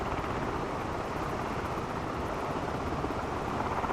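Airbus H160 helicopter in flight in a flight simulator game, a loud, steady rotor and engine drone holding constant throughout with no talk.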